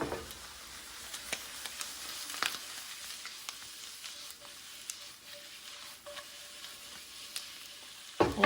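Wild oyster mushrooms sizzle steadily while frying in a pan, a continuous close hiss broken by occasional crackles and pops, with a louder burst of stirring near the end.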